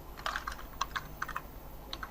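Quick, close typing on a computer keyboard while entering a heading in an Excel spreadsheet, with quiet irregular key clicks in fast bursts.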